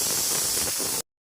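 A pressure cooker cooking mutton vents a loud, continuous steam hiss at close range for about a second, then cuts off abruptly into silence.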